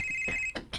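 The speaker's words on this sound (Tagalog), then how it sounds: "Dong, your cellphone is ringing." A cellphone ringing nearby, a steady electronic ringtone tone that cuts off into short bursts, fairly loud and alone without talking.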